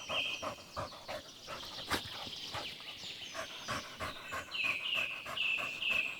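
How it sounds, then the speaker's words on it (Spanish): A female cheetah pants hard on flattened grass in Mala Mala, Africa, after a failed chase: quick, rhythmic breathy huffs, close and steady, with faint bird chirps behind. "la guepardo se vio obligada a frenar, jadeando sobre la hierba aplastada"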